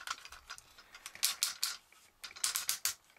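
Plastic parts of a 2004 Transformers Sentinel Maximus toy being folded and clipped into place, giving close, crisp clicks and ratcheting snaps in quick clusters separated by brief pauses.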